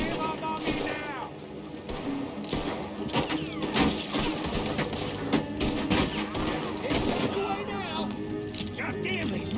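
Rapid gunfire in Red Dead Redemption 2 during a town shootout with the law, dense bursts of rifle and pistol shots cracking one after another under shouted voices.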